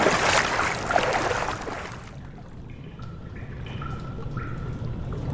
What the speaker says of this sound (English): Oh God, I gotta go through water.